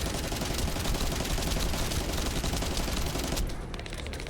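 Rapid, dense automatic gunfire in the video game The First Descendant, loud and continuous for several seconds before easing slightly near the end.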